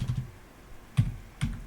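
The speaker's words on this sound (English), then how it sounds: "So I'm gonna type in a command, and this is gcc." Keys on a computer keyboard are struck while a gcc compile command is entered, a few soft, separate taps spaced irregularly, close by and quiet with no talking.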